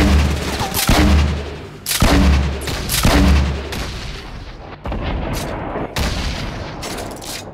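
Gunfire in the video game Fortnite: loud repeated bursts of shots and booming blasts, several heavy volleys in close succession followed by scattered sharper reports, with no talking.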